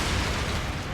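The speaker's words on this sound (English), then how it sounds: "That was a big old explosion." Explosive barrels go off in Elden Ring, a dense, loud, rumbling blast that fills the whole moment without fading, no voices over it.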